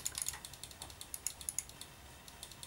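Rapid, crisp clicks from a SteelSeries Rival gaming mouse, fairly quiet, in quick irregular bursts with no talking.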